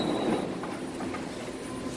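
Inside a moving BART train the car gives off a steady, loud rumble and rushing roar, with a faint high wheel squeal running through it and no voices.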